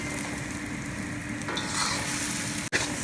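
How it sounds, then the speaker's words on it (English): Eggs scrambled in a lightly oiled, non-stick-free wok for fried rice, a loud continuous sizzle and hiss with stirring, ending in a sudden sharp clatter. "I'm gonna scramble these eggs to make fried rice."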